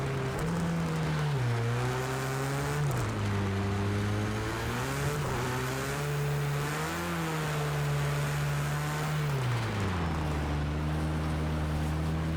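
Race car engine in a racing video game, loud and steady, with repeated revs rising and dropping through gear changes over several seconds, no talk over it.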